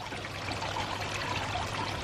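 Water pours steadily out of a koi pond filter outlet partly blocked by debris, a continuous close trickling and splashing stream with no talk over it.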